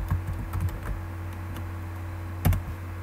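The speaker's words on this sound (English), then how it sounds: "we're going to type in the word budget" Keys tapped on a computer keyboard while a word is entered in an Excel 2013 worksheet, a few quick clicks early on and a sharper burst near the end over a steady low hum.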